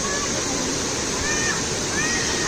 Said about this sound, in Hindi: पानी का बहाव बहुत तेज हो रहने के कारण